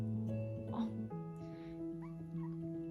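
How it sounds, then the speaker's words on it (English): A small pet called Mr. Kitty whimpers and yips while being held, thin high whines that rise and fall over several seconds, close by. "He'll start to whimper if he doesn't want to be held."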